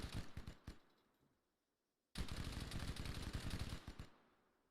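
Rapid bursts of automatic gunfire from an enemy in a Halo-style shooter match, a dense rattling volley, a short pause, then a longer sustained burst that tapers off at the end.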